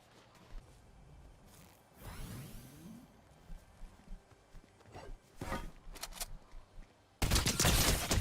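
Gunfire in a battle royale video game: scattered shots and whooshes build into a loud, dense burst of rapid fire near the end, with no talking.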